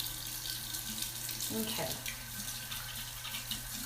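A sink tap runs in a steady close hiss while makeup brushes are washed, with a short voice and a brief splash near the middle.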